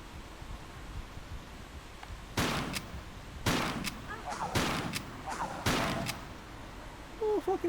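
Pistol gunfire in the video game Tomb Raider 3 comes as a series of about five sharp, loud shots spaced irregularly over a few seconds, each with a brief ringing tail, set against a low background hiss.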